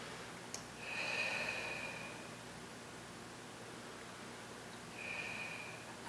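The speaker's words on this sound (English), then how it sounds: "Deep breaths." Slow, deep breaths during a seated chair-exercise session, with the chin tucked toward the chest: a long soft airy inhale, a quiet pause, then another breath beginning, faint and close with no talking.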